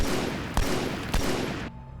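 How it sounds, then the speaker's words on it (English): Gunfire in the Halo video game: a continuous dense burst of rapid shots with two sharper louder cracks inside it, loud and close, stopping abruptly after about a second and a half, with no voices. "I'm going to spawn a dude and just fire a few shots"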